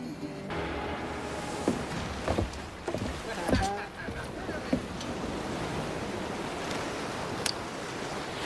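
A sailing ship at sea in Assassin's Creed 4: Black Flag, with continuous wind and rushing waves against the hull, scattered creaks and knocks, and voices faintly in the mix.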